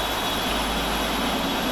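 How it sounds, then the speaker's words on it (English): The jet engines of a PMDG 747-8F freighter start up on auto start in a flight simulator, giving a steady, dense, unbroken roar that stays loud throughout. "And we can see the engines firing up."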